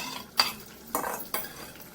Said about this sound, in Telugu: ఈ పచ్చిదనం పోయేదాకా ఈ మసాలా ముద్దలు దీంట్లో వేసి మనం వేయించుకుందాం.